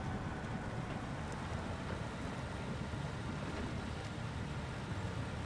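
A truck engine idles and rumbles steadily in SnowRunner, a low continuous drone that holds even throughout with a faint windy hiss on top and no voices.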